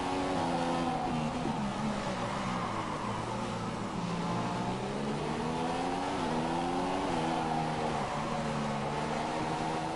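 Formula 1 cars race in the F1 2014 game at the Australian Grand Prix, with a loud, continuous high-revving engine whine that climbs and drops in pitch through gear shifts, close and steady without talking.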